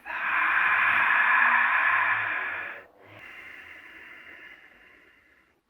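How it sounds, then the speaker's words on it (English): A long, breathy exhale through the mouth during a gentle hatha yoga session, close and loud for about three seconds, then a softer, second airy breath that gradually fades. "Exhale through the mouth."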